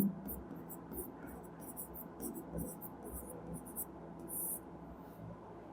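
A pen scratches and taps rhythmically on a board or paper during a maths lecture, with short repeated bursts of writing strokes over a quiet room hum.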